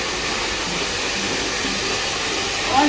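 A hair dryer blowing steadily as it is moved over hair, giving a constant loud whooshing hiss with no breaks.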